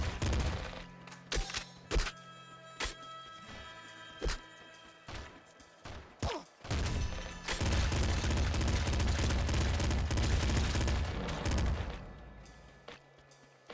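Rapid bursts of golden pistol fire from Nuclear Throne, the character YV shooting slightly faster than normal, crackling shots in quick loud volleys layered over game music with sustained dense firing in the second half.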